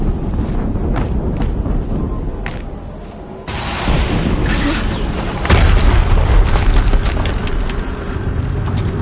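Deep booming blasts from explosions in the video game Horizon Zero Dawn, a loud rumbling burst near the middle and another heavier one later, with sustained low roar and crackle between them.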